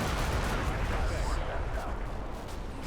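Gunfire rattles through a military video game battle against a Marine Expeditionary Unit, a dense, loud stream of shots and rumbling blasts running continuously.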